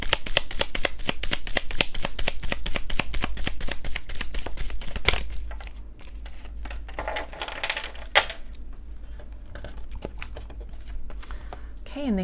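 Tarot cards shuffled and drawn from three separate decks: a fast, steady rattle of riffling cards for about five seconds, then quieter, sparse card handling and slides with a sharper snap partway through, close to the microphone.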